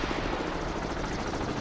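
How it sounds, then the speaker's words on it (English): A helicopter overhead in a naval combat video game, with a loud, steady rotor chop and a rumbling drone that fills the moment without a break. "Oh, and there's the helo right above Con, us."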